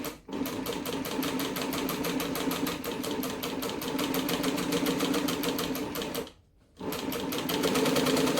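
A sewing machine stitches a large travel bag in a fast, continuous rattle of needle strokes, close and steady, with one short pause before it runs again.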